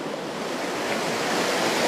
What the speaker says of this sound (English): the harnessing of this sort of power, crude water power